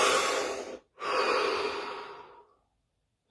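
A single deep breath: a long, close inhale, a brief pause, then a slow, steady exhale that fades into silence.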